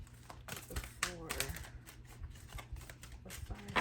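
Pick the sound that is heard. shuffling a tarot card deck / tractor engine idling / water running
shuffling a tarot card deck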